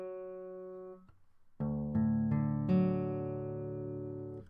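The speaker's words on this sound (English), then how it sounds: "and your third string is tuned to an F sharp," An acoustic guitar's third string, tuned down to F sharp for an open tuning, rings out as single sustained plucked notes and then strummed open strings, clear and close with no talking.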